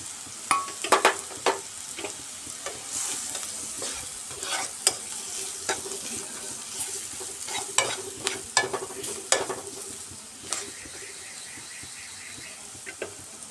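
Salt, turmeric, cumin powder and a little sugar are stirred into browned onions frying in a pan: a continuous sizzle broken by sharp, irregular scrapes and clatters of a spoon against the pan, close and busy.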